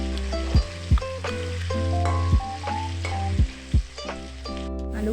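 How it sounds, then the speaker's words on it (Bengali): Potato pieces seasoned with salt and turmeric sizzle steadily in hot oil in a pan, with a spatula scraping and clinking against the pan several times in irregular strokes, close and clear. "আলুগুলো ভালো করে নাড়াচাড়া করে আমি লাল লাল করে ভেজে নিচ্ছি।"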